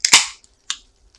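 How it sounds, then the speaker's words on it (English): A soda can is cracked open close by: a sharp metallic pop with a short fizzing hiss, then a second smaller snap and faint fizz. "I'm going to open a new soda."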